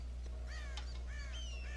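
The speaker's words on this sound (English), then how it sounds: "God damn crows!" Crows cawing around a farm silo in the video game Red Dead Redemption, several harsh drawn-out caws in irregular succession over a steady low hum, moderately distant.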